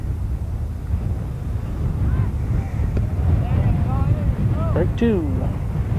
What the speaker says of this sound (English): Wind continues to blow us around out here.